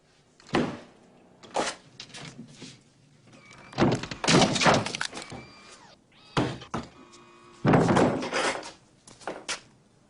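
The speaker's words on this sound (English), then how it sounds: "The door seems to be stuck." A stuck door being pushed and thumped, with repeated loud bangs and rattling knocks in uneven bursts, close by and with no talking.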